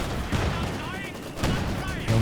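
Machine gun fire and explosions in a Company of Heroes 2 battle, rapid bursts and booms mixed with voiced commentary.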